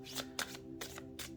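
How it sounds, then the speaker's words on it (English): A flexible deck of cards is shuffled by hand in several quick riffle bursts, crisp and close with short pauses between them. "it does shuffle nicely"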